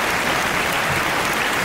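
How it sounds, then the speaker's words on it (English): A round of applause in a podcast studio, a loud, continuous, hissy burst of clapping that fills the whole moment with no speech over it. "Big round of applause for that."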